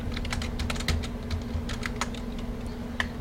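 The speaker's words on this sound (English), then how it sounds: "type the letter V" Rapid clicking of a computer keyboard while working in AutoCAD, a steady run of close, crisp keystrokes over a faint electrical hum, with no talking.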